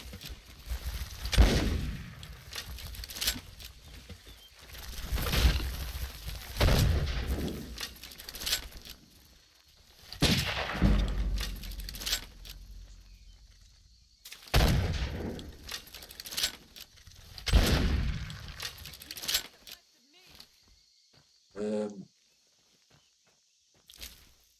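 Gunfire in a video game, several bursts of sharp shots with footstep-like shuffling, arriving in spaced clusters at moderate loudness, followed by a brief high-pitched creature cry and quiet near the end.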